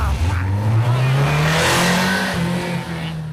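A car engine revs and pulls away, pitch climbing steadily as it accelerates, loud and close with a hint of tire noise, fading slightly toward the end.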